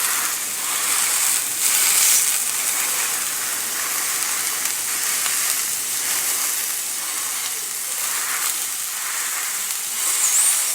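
Raw link sausages fry over a moderate flame in a pan, giving a steady, dense sizzle and hiss that runs the whole time, with small crackling pops and no voices.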